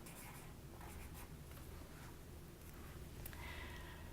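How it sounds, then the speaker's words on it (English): A pen scratches across a paper graph as today's date is written, a continuous soft scraping with small strokes and taps, quiet and close, with no speech. "we write today's date down here at the bottom"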